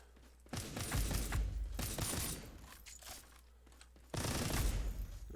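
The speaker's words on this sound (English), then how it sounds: "Who's shooting at me?" Gunfire in the sci-fi shooter Earth From Another Sun comes in loud bursts of rapid automatic shots, separated by short quieter gaps, with a final heavy volley near the end.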